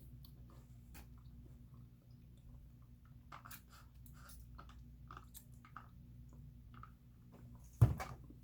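Someone eats pho during a mukbang, with quiet close chewing and soft wet bites over a low steady hum, ending in one louder clack.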